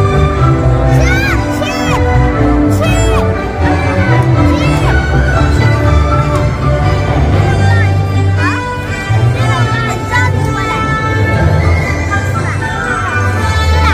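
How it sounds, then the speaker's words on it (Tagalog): Children shouting at night at Tokyo Disneyland to call a character: loud, overlapping excited kids' voices and crowd cheering, with adults talking nearby. "Pero ito, mga bata na to. Tatawagin nila yung karakter na next dyan eh."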